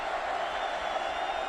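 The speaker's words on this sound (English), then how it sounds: "Crowd getting into it." A sold-out college football stadium crowd in Austin at Kansas State vs Texas, 2011, roars in a steady, dense wall of cheering; a commentator's voice may sit under the noise.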